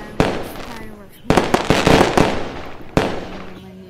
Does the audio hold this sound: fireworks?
yes